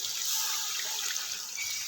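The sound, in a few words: water being poured into the wok for matar pulao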